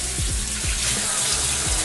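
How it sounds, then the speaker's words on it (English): A hat being rinsed under a running tap, with a steady, loud rush of water splashing throughout and no talking. "And then you just rinse it out, dude."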